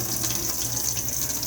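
Caravan water pump in a 2021 Elddis Majestic 135 running, a steady hum with flowing water and a high whine, loud and continuous with no talk.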